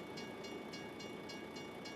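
A train rolls through a level crossing in American Truck Simulator, a steady rumble with a faint rhythmic clatter repeating about every quarter second, held at an even level and heard from the cab without speech.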